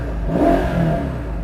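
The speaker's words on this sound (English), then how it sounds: "and that is the exhaust" Exhaust of a Mercedes-Benz SL63/SL65 AMG revving loud and close, a single throaty surge that rises and falls over about a second and a half with no talking.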